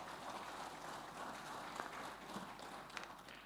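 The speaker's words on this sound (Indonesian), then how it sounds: "Ini saya kira saya ingin sekali lagi berikan apresiasi aplaus untuk seluruh anggota ini." Cooperative members applaud at an annual meeting, a dense, even patter of many hands clapping together, sustained throughout but quiet and distant.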